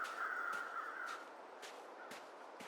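A crow caws in the survival game The Long Dark, a run of harsh calls under a steady wind-like hiss, with a bright sustained call early and several short calls later, moderately near.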